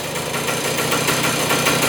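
A 1972 flat track motorcycle engine, revived after sitting twenty years, idles loud and close with a steady, rapid mechanical pulse and even rattle.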